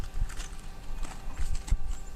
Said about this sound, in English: Beth's horses are in the field on the next field